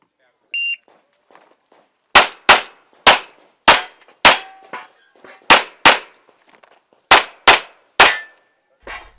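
Pistol shots at an IPSC World Shoot stage, a string of about a dozen sharp loud cracks in quick bursts after a short beep, each ringing off steel targets, with no talk over them.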